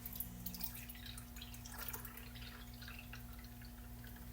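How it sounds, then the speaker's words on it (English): Apple-flavored homemade kombucha pours into a glass measuring cup, a quiet continuous trickle with small drip-like splashes over a low steady hum. "I pour it into my glass measuring cup to see how much I"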